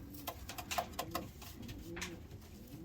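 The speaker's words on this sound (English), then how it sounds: "Hey Messi, I thought you'd be more of a top perch kind of pigeon" A pigeon in a loft coos softly, its low, rounded calls repeating in a loose rhythm at close range over a quiet background.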